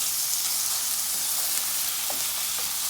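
Chopped onions and carrots fry in a pot for a Guyanese stew, a close, even sizzle that holds steady throughout, with faint stirring clicks near the end and no voices.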